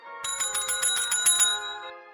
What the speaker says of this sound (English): a mouse that rings a bell at the same time each evening